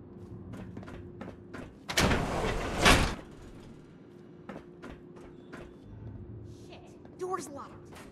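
A locked door being tried in the game Fallout 76, a loud burst of rattling and clattering lasting about a second, surrounded by quieter footsteps and clicks, with a brief clunk near the end.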